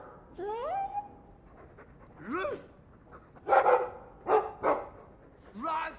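Several short dog barks and whines ring out in a series in Dragon Age 2, mid-distance, with spacing between yelps.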